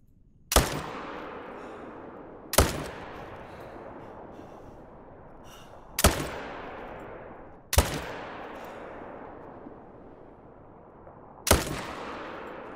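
Five sharp rifle shots ring out in theHunter: Call of the Wild, each a loud crack with a long rolling echo, spaced a couple of seconds apart with no talking.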